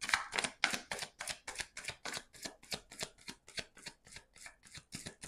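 Tarot cards shuffled in quick, regular riffling bursts, each a crisp papery flutter, close and clear with no talking.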